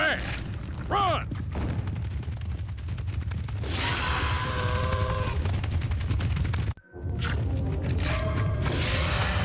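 Rapid bursts of gunfire and mechanical clatter from a Jak II game cinematic crackle loudly over a dense rumbling background, with a sudden brief drop to silence partway through and voices shouting amid the action.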